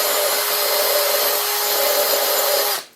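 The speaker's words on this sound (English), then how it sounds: "You can go with this route with a grinder on the end" A grinder smoothing a sharp edge in a pottery kiln setting, a loud steady high whine with a hissing abrasive texture, running continuously before cutting off abruptly at the end.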